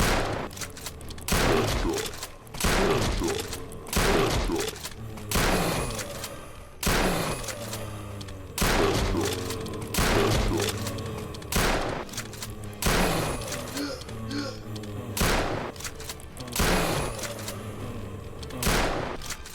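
Video game gunfire in a spooky horror game: repeated bursts of loud, booming shots spaced a second or two apart, a steady rhythmic volley with clattering echoes between.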